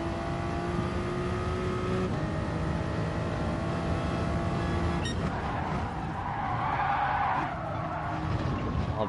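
A Toyota Supra in a racing video game drones along at steady engine pitch, then shifts and breaks into a long tire skid and squeal that rises and fades, continuous and loud throughout.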